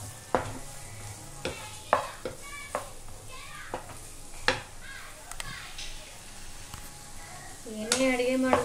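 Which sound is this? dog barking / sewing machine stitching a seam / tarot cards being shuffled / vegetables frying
vegetables frying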